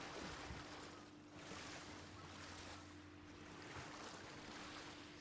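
Steady rush of water and wind in ARK: Survival Ascended, continuous wave and surf wash with low rumble while crossing a stretch of water, fairly loud and even throughout, no voices.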